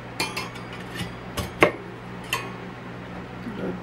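Knife slicing a potato set on a small wooden block for hasselback potatoes, a series of sharp irregular clicks and taps against the board and blade, a few louder strikes standing out over a quiet background.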